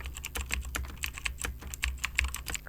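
Quick, irregular clicking of keys on a computer keyboard, close and fairly quiet, continuing steadily with no voices.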